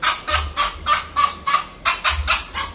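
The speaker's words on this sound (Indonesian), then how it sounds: "Dia juga ikut mewawancara tuh ayam." Free-range village chickens honk and squawk in a rapid run of about ten loud, close calls, alone without talk.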